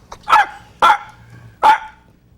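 A dog gives three sharp, loud barks close by, spaced about half a second to a second apart, with quiet background noise between them.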